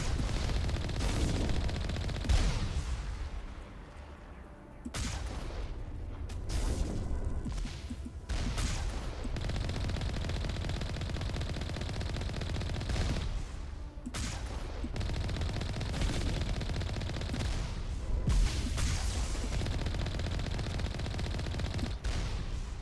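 Rapid automatic gunfire firing shredder rounds in the video game Mass Effect rattles in long sustained bursts with brief pauses, loud and dense throughout.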